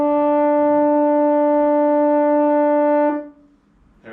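A single sustained brass note A on French horn, steady and loud for about three seconds before cutting off into quiet.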